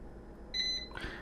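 An air fryer controlled from a phone gives a short electronic beep, a steady high tone lasting about a third of a second, followed by a brief softer click-like chirp against quiet kitchen background.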